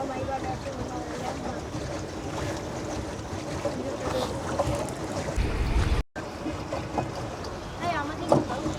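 A boat ride on a park lake at Ramna Park during Eid, with a steady rumble of water and wind around the hull, people talking throughout.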